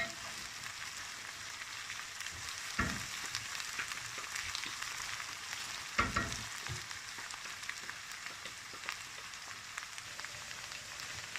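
Onions sizzle in a pan for a spiced chickpea and potato dish, a steady close crackle broken by a couple of louder stirring scrapes, with no voices.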